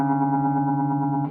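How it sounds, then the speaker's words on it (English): An open D string rung right after the A string fretted at the fifth fret while tuning a guitar by ear; a sustained, slightly detuned tone that wavers audibly as the two pitches beat against each other, fading at the end. "Let's listen for that beating."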